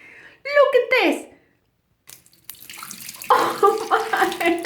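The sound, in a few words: liquid being poured out of a container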